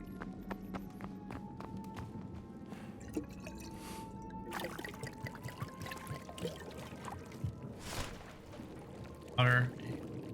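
Water pouring in Indiana Jones and the Great Circle, a steady watery wash with drips running under ongoing game audio and a speaking voice, swelling briefly near the end.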